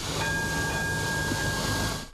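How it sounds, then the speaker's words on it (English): A G-Link tram creeps at walking pace along its track through Southport's central streets on the Gold Coast, producing a continuous low rail rumble with a faint steady hiss and thin whining tones. "At snail's pace, the G-Link steadily moved through the CBD."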